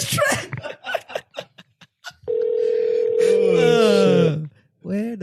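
A phone call rings out on the line as a steady electronic ringback tone that holds for about two seconds, with chatter and laughter before it and a voice starting again after.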